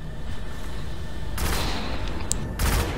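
Video game gunfire crackles in quick bursts, with sharp loud volleys over a steady background rumble and near-constant combat noise.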